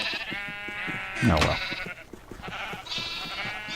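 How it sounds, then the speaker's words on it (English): Sheep in the game Minecraft let out one loud, wavering bleat at close range while someone talks over the game audio. "I'm getting their sheep getting stuck in there with their parents"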